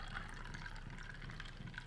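Vodka poured over ice into a glass gives a steady, soft trickle of liquid for about two seconds, faint and continuous with no voices.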